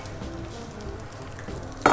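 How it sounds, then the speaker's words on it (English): Potatoes fry in bacon fat in a hot pan, giving a steady close sizzle and crackle that ends with a brief sharp clatter. "This way you can immediately hear that the potatoes are cooking."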